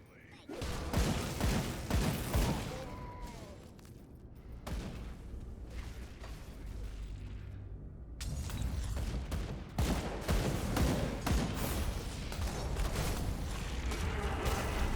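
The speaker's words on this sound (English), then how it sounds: "I'm just turning on the gun because we're fighting so many ranged enemies." Dense gunfire from the action RPG Grim Dawn rattles in loud, rapid bursts almost continuously, easing briefly midway before resuming at full intensity with heavy booming impacts.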